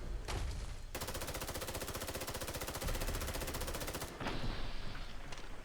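Rapid automatic fire from the BPRE AR rifle in Fallout 4: one long, evenly spaced stream of loud shots, close and steady, with short, quieter stretches of game ambience before and after.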